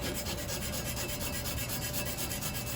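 Coarse-grit sandpaper rubs steadily across an aluminum propeller blade in rapid back-and-forth strokes, a loud, continuous, close raspy scratching with no talking.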